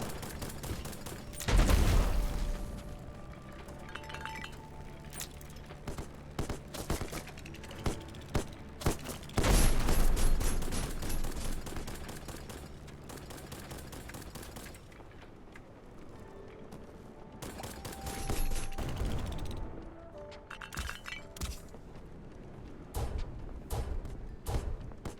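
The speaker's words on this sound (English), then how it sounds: "Hey, stop shooting. Stop blowing holes in my ship." Video game gunfire blasts at the player's ship in loud bursts, with heavy impacts and a steady rumbling game soundscape between them.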